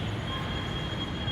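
A Delhi-Meerut RapidX regional rapid transit train near Duhai station makes a continuous rumbling rail noise with a thin high whine on top. The sound is steady and fairly close, with no voices over it.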